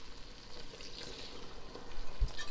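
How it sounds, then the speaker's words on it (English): Spinach and leek sizzle steadily in a hot pan as brandy is poured in, a close, continuous frying hiss with no talking. "And now I'm going to add probably about a 1/4 cup of brandy."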